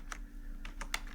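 A short run of quick, close keystrokes on a computer keyboard while typing a command into a terminal, with about half a dozen crisp taps in an uneven rhythm and no talking.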